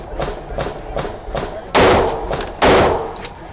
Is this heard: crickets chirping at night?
no